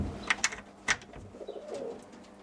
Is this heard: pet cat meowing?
no